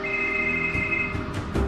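A telephone rings when calling a sister, a steady electronic ring tone with faint rustling underneath and no voices.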